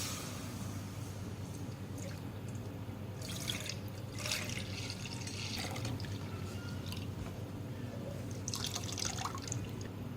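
Milk for saffron kheer streams into a cooking pot in a steady liquid splash and trickle lasting several seconds, with brief louder spurts near the middle and end, heard alone at moderate volume.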